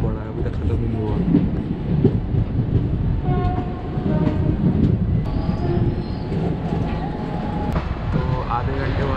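Passenger train running between Bilaspur and Champa junction in India, a steady loud rumble of wheels and carriage noise throughout, with faint tonal whines and occasional clatter.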